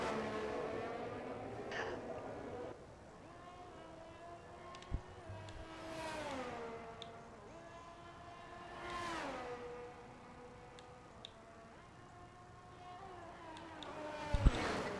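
Formula 1 race cars in the RSF1 game pull out of the garage at the Spanish GP, engines whining up and down through gear changes in repeated rising sweeps, with faint background noise throughout.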